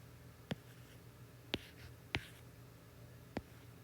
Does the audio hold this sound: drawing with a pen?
yes